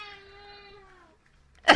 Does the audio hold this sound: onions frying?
no